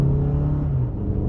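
A 2022 Toyota RAV-4 XLE pulls away in sport mode, a steady low engine drone and rumble rising slightly in pitch inside the cabin, brief and without talk.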